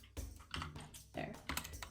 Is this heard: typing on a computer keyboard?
yes